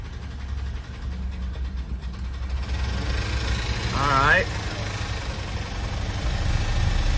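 A Ford F150 pickup engine idles with a misfire, giving a steady low rumble throughout, close and fairly loud, with a brief rising whine partway through.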